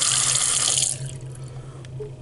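A hotel room sink tap runs with a bright rushing hiss for about a second, then shuts off, leaving faint drips and a low room hum.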